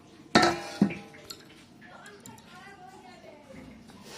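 A fork pricks homemade pizza dough in a pan, two sharp metallic clinks up front followed by softer tapping and scraping while someone talks over it.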